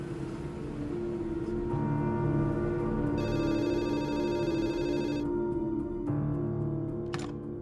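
A telephone rings on a redialed call in a drama scene, a steady electronic ring heard over a droning musical backdrop with no voices.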